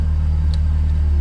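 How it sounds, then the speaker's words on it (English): Honda S2000 engine idling loudly nearby, a steady deep rumbling drone with strong low harmonics and a brief faint click partway through. "Sorry, the car is a little loud."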